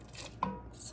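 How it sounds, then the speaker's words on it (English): A knife strikes a board once while cutting hard-boiled eggs into big pieces for a stockfish stew, a single short thud set against steady kitchen background noise. "So I just chop them in, big pieces"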